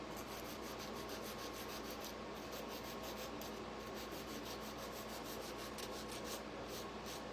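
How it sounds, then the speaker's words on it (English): Sandpaper rubbing on a small handmade craft duck, a continuous, even scratching with quick back-and-forth strokes, close and quiet, with no talking. "let me sand this"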